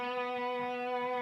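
An electric guitar rings out one sustained note bent on the G string at the sixth fret, steady and alone with no talking, its pitch held smoothly at the top of the bend.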